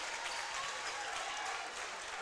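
Crowd noise at a high school basketball district tournament game between the Butler County Bears and Edmonson County Wildcats, a steady broadband roar of cheering and applause filling the gym without letup.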